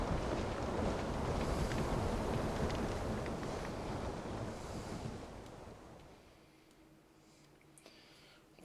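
A boat sails across the open sea in Will: Follow The Light, with steady wash of waves and wind rushing loudly, then fading to a quieter, calmer hiss near the end.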